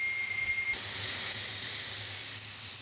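T-59 Hawk jet trainer at an airfield, its engine roaring loud and steady with a high whine that jumps up sharply partway through and then holds, no voices.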